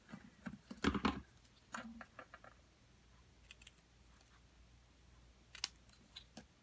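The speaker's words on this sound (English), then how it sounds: "I'm just going to hand cut it to match" Paper being hand cut with scissors at a craft table, a few crisp snips bunched near the start and again toward the end, close and fairly quiet, with soft handling noises in between and no talking.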